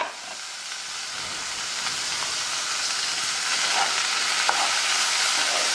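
Covered pan of vegetables for veg puff filling steams and sizzles with a steady broadband hiss that slowly grows louder, punctuated by faint crackles near the end; no one speaks.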